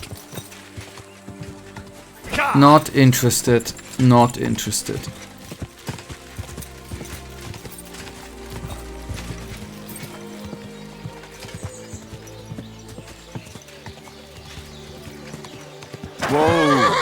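In the game Kingdom Come: Deliverance II, a horse whinnies loudly nearby with hooves clopping, then a person speaks briefly; later another whinny rises over quieter ambient game sounds.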